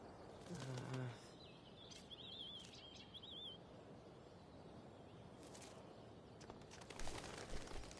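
In the video game Life is Strange: Before the Storm, a bird bursts into flight with a quick flurry of flapping wings near the start, followed by faint chirps over quiet ambience.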